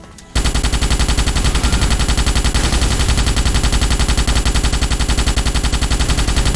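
A Starship Troopers video game gun fires at bugs in one long unbroken automatic burst, rapid evenly spaced shots loud and close, starting abruptly after a brief quiet moment.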